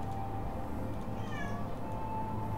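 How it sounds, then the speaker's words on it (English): A real cat gives a short, faint meow partway through, nearly buried under a steady hum of game music and background noise. "my cat is bothering me fucking a lot today"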